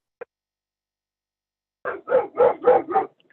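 A dog outside barks excitedly, with one short yip and then a quick run of five loud, closely spaced barks after a pause, with no speech over them.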